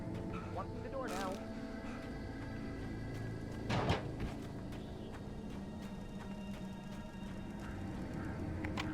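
A door opens in the dark survival game Alan Wake Remastered, a brief creak and clunk rising over a low ambient hum, with a voice talking near the start.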